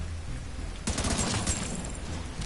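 A rapid burst of automatic gunfire crackles in The Division 2 after a quiet moment, a short close fusillade of shots that ends quickly.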